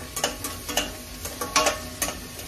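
Tomatoes and garlic frying in a pan, a steady sizzle broken by repeated scraping stirs of a spatula at an uneven rhythm, close and fairly loud with no talking.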